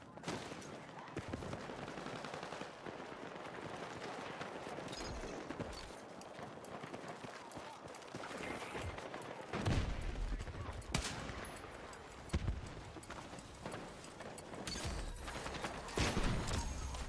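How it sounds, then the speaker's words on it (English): Gunfire from a weapon hip-fired in the video game Battlefield 6, sounding as dense bursts of shots with sharp loud cracks toward the end, mixed with game effects and background noise. "Can't hip fire this gun without a few upgrades yet, apparently."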